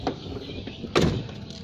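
An Isuzu Panther capsule first-generation car door being worked during an inspection: a faint mechanical rattle followed by a sharp thud of the door near the middle, over a steady background.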